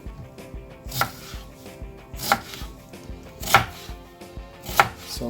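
Onions cut into big pieces on a board for a turkey stew, four sharp knife chops spaced about a second apart, close and clear with no talking.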